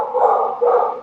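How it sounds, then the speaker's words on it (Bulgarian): Dogs give two loud, close barks in quick succession, the second following a brief pause after the first. "Тук е някакви кучета."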